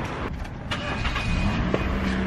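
Steady road and engine rumble from inside a moving car, a continuous low drone with faint rattles and no talking.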